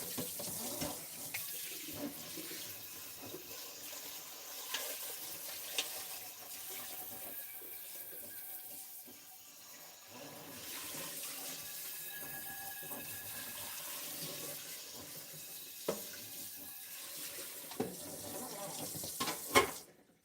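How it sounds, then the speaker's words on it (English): Tap water runs into a kitchen sink as a pan is rinsed, a fluctuating rushing flow with clatters and splashes from the pan, briefly quieter near the middle before resuming. "I'm going to rinse my pan out since I'm done with it."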